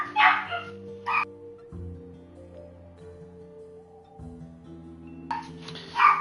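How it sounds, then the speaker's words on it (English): A sister's dog barks excitedly in short, sharp bursts at the start and again at the end, somewhat distant, over sustained background music. "Oh god, sister's dog is going crazy."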